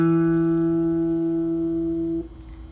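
One plucked note on a guitar's D string sustains steadily, then cuts off abruptly near the end, clear and alone with no talking.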